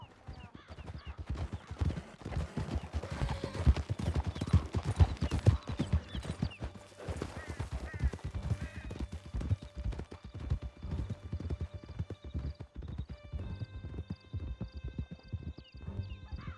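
Horses gallop in Red Dead Redemption 2, a dense run of clip-clop hoofbeats pounding steadily and close for the whole stretch, with a brief whinny and no talking.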